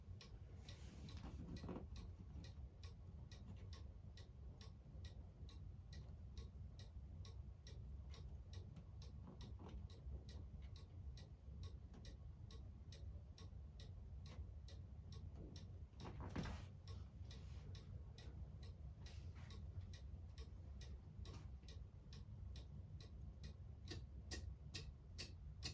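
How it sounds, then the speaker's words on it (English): Once the cuckoo clock has been moved left or right into beat, it ticks evenly. A long run of regular, evenly spaced clicks continues steadily over a low background hum, and no voices are heard. "I positioned it by moving it to the left or the right until I get that nice even tick."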